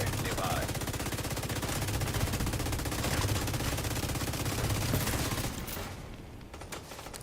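Sustained automatic fire from an F2000 rifle in a shooter game, a dense unbroken rattle of rapid shots that runs loud for several seconds, then thins out near the end.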